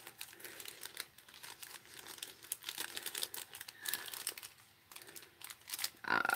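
Tape crinkling and peeling away from a key inside a happy mail package, with close, fairly quiet rustling and crackling that comes in irregular bursts, growing a little louder near the end.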